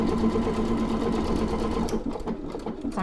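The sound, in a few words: sewing machine stitching out a decorative stitch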